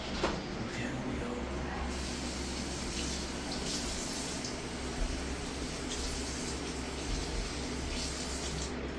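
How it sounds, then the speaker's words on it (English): A sponge is washed under a running tap, a steady hissing stream of water splashing into a sink with brief shifts as the sponge moves through it. "I need to wash my sponge"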